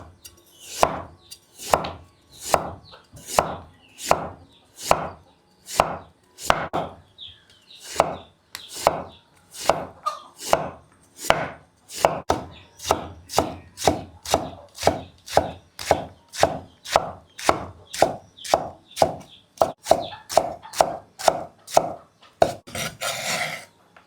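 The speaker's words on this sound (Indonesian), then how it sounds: "habis cuci baru diiris-iris" A knife slices a freshly peeled and washed bottle gourd (labu air), making a long, steady run of crisp, evenly spaced chops close by, quickening toward the end.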